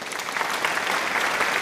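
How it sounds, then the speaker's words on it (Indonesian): Audience applause after a question during an introductory architecture class session, a steady wash of clapping that holds evenly for under two seconds with no voices over it. "kita kasih tepuk tangan dulu."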